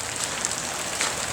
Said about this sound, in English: it's October the 6th and it's raining